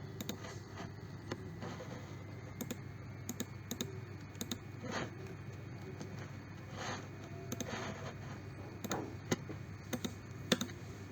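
Keys clatter on a computer keyboard as a web address is typed, a quiet irregular run of clicks with brief pauses over a faint steady hum.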